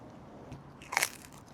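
Someone bites into a slice of crusty pesto pizza at a Seattle pizzeria, making one sharp, close crunch above quiet room ambience.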